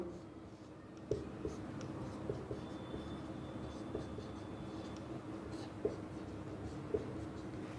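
Chalk or a marker writing out a chemistry molecule on a board in a lecture, with faint scratchy strokes and occasional taps under a steady room hum and a soft voice in the background.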